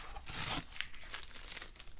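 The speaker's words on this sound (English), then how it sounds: "Take off this noisy tape." Strip of masking tape pulled from watercolor paper in a steady crinkly rip, with brief louder crackles and tearing bursts, heard up close on its own.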